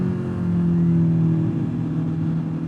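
Honda CB650R inline-four motorcycle with a loud aftermarket exhaust, holding a steady, deep, throaty rev close by that swells slightly and then eases off.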